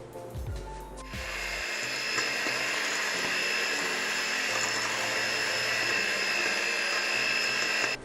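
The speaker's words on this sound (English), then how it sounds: "I just bought this new little mixer just for this video" A small new electric hand mixer whirs steadily for several seconds, creaming sugar for chocolate chip banana bread; the motor starts after a brief clatter and holds a constant high-pitched drone close to the mic.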